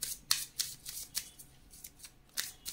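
Tarot cards are drawn and handled during a reading, with a string of soft, crisp card flicks and slides at an irregular pace, faint and close, with no voices.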